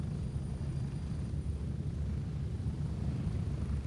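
A helicopter in the video game Gray Zone Warfare, with a steady low rotor and engine drone that fills the whole stretch and no speech.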